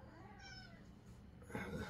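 A pet cat close by gives a short soft meow, faint and brief, with a slightly louder vocal burst at the end.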